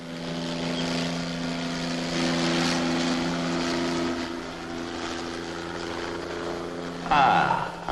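A helicopter arrives with a loud, steady engine and rotor drone that fills the whole stretch, swelling slightly near the end.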